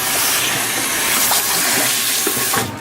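Water runs steadily from a salon tap as a client's hair, just taken out of braids, is wet down; a broad, continuous rushing spray with faint shifts, ending abruptly.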